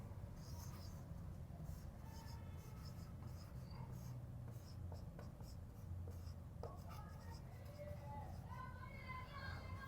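Faint, soft scratching of a pen or marker on a board during a maths lecture, where a heading is written out in a quiet room, with light rubbing strokes over a low background hiss.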